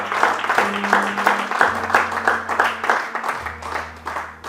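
A church congregation applauding, a lively stretch of dense clapping with rhythmic bursts, loud and close, while sustained organ or keyboard chords play underneath.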